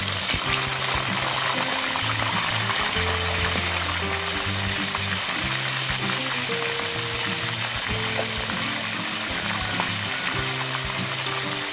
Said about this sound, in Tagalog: Atin muna siyang ipiprito. Handa na ako dyang mantika na mainit.